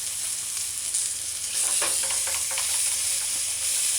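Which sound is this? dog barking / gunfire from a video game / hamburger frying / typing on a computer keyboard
hamburger frying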